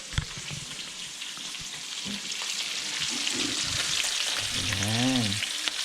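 Bacon sizzles steadily in a pan for breakfast inside a camper van, a dense hiss throughout with faint voices briefly audible near the end.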